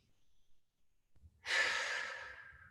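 A single long, deep exhale during a stretching exercise, close and breathy, following a few faint shorter breaths and swelling before it slowly tapers off.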